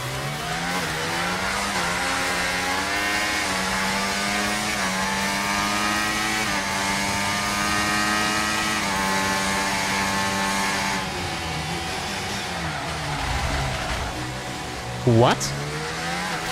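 F1 race cars in the F1 24 game, a high engine whine that climbs and shifts through gears, then a sudden sharp rising squeal near the end, with a brief spoken word.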